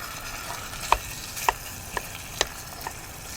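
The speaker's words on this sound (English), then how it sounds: "And all we're gonna do here is just brown this meat." Stew meat seasoned with salt and pepper browns in a pan with a constant sizzle and crackle, broken by a few sharp clicks of stirring utensils.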